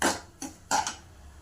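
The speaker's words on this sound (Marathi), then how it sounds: "थोडंसं परतून घ्यायचं आहे, मिक्स करून घ्यायचं आहे।" A utensil stirs spices and salt in a pan while making sambar vadi: three short, close clinks and scrapes spaced apart, with no sizzle standing out and no talking.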